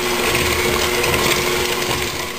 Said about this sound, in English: I'm just going to beat that till it's nice and light.